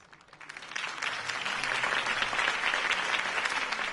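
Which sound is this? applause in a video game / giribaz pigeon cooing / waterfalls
applause in a video game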